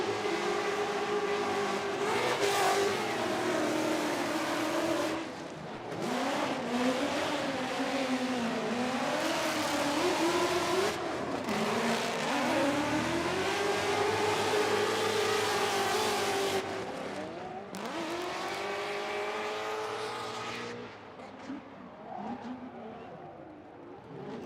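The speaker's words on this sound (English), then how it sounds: "listen, as Beecham pilots his Clonex Racing Nexen Tire Ford Mustang" A Clonex Racing Nexen Tire Ford Mustang race car at a drag racing bracket event, its engine roaring loud and sustained with rising and falling pitch through several gear changes before fading away.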